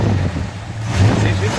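The original 302 V8 in a Ford F100 pickup idles quietly and steadily, a low even hum with slight surges, under close wind or handling noise.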